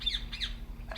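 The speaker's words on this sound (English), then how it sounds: "What the hell's up with that bird?" A bird squawks in the video game République, three harsh, rising calls spaced across a second over a low steady game hum, fairly close and clear with no talking.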